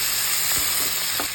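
Tomatoes fry in a pan for appala puli kulampu, giving a loud, steady sizzle and hiss with a few soft stirring clicks over a brief moment.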